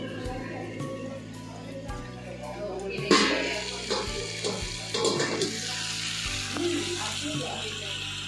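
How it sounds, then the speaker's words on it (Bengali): Mixed vegetables with masoor and mung dal frying together in a pan give a steady sizzle, with clatter, a low electrical hum and a few louder bursts over the background. "সমস্ত সবজি, মসুরির ডাল, মুগ ডাল সব একসাথে ভেজে সিদ্ধ করে"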